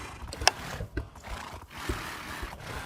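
A horse whinnies in short bursts over a busy rural background, with a few snorts or thuds around it, fairly close.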